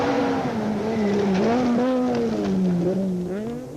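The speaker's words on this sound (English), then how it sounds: "The second car on the road is the Castrol Toyota Auris of Leroy Polter and Alvin Coetzee" A Castrol Toyota Auris rally car at speed on a rally stage, its engine note loud and close, rising and falling through gear changes with a brief tyre squeal, no voices.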